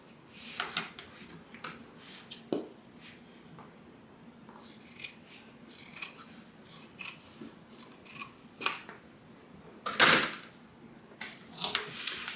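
Scissors snip through excess fabric at the bottom of a tote bag, a series of close crisp cuts and rustles at an irregular pace, a louder snip near the end.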